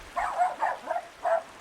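A dog gives four quick yapping barks, the first three in a rhythmic run and the last after a short pause, close by and fairly clear.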